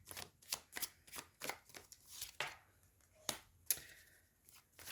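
Tarot cards are shuffled and drawn by hand, a series of quick riffling and slapping bursts in an uneven rhythm, close and fairly soft with no talk.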